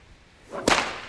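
A single sharp whip crack snaps close and loud, preceded by a brief rising swish of the lash through the air, with nothing else around it.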